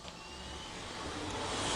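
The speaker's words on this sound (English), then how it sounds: "on a typical spin rinse dryer, all you do is you load your cassette and hit start" A spin rinse dryer loaded with a wafer cassette starts its cycle, a whooshing motor and air roar that builds steadily in loudness as it spins up, with no talking.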